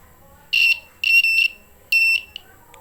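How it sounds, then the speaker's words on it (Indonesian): A wire continuity tester's buzzer sounds three times in short bursts, loud and close, as a clip probe touches a blue cable, with faint background noise between beeps. "ini buzzernya berbunyi."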